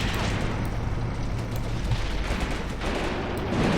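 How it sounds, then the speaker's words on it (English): Gunfire and blasts strike a government building in the Graviteam Tactics war game, a dense, loud stretch of rattling shots and booms with crumbling debris, continuous with no talk. "Great shot, Ozhgov. We actually sort of demolished the building, guys."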